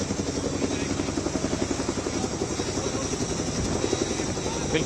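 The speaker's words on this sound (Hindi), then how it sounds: "तो हेलीकॉप्टर्स के रोटर्स का शोर ऋषिकेश में" Rotors of a Chinook helicopter at Rishikesh produce a continuous rhythmic thumping and droning roar that fills the whole clip, steady and fairly close.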